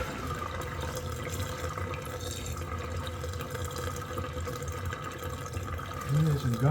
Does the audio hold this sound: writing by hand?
no